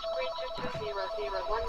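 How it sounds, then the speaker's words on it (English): A telephone rings steadily in the background of a Final Fantasy VII game session, its repeating electronic tone running through the whole stretch at moderate level with no voices over it. "Does someone have a phone ringing there?"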